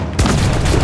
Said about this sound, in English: So once again, we're just going to use the swivel guns